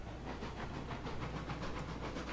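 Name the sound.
steam locomotive chuffing in Railroads Online video game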